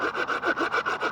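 A hand saw cutting through a very hard piece of wood, a quick rhythmic series of about eight rasping strokes, close and clear with no talking.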